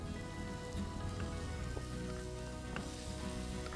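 Green chili and ginger paste sizzling in a pan with frying onions, a dense steady crackle and hiss with scattered pops, close and continuous, no voices.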